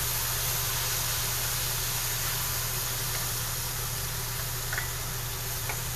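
Mushrooms browning in a hot pan for chicken marsala, a steady, even sizzle and hiss running throughout, with a few faint ticks near the end and no talking.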